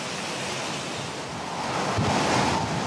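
Cyclone winds on Réunion island roar in a steady, dense rush alongside fast-rising floodwater surging through a river and houses, loud and continuous with buffeting gusts that grow slightly stronger toward the end.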